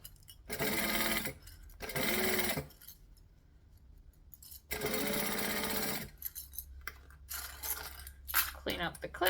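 Sewing machine stitching in short loud bursts of about a second each with quiet pauses between, followed by lighter clicks and handling sounds.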